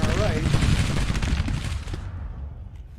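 Cannon and musket fire rumble through a Civil War battle in the Grand Tactician strategy game, a dense, loud barrage of overlapping booms and crackling shots that fades out toward the end, with someone talking over it.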